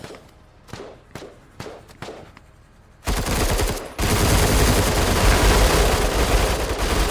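Heavy gunfire in the video game Menace: a few spaced single shots give way to a sustained, loud roar of automatic fire that continues without pause to the end.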